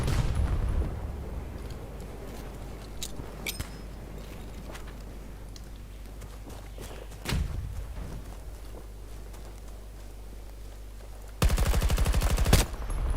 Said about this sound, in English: What is that, a shotgun?